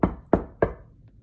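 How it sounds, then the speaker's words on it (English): Three quick knuckle taps on a wall, evenly spaced and close, each a dull short knock fading fast into quiet. "I tap on wall."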